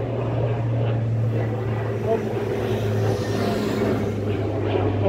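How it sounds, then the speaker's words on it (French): Propeller aircraft droning overhead in Toulouse, a loud continuous low engine hum with steady tonal bands, with a brief spoken word. "il y a des avions, on est à Toulouse"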